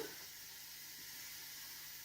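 A soft, steady hiss of residual steam escaping from a T-Fal pressure canner after beet canning, faint and continuous with no talking.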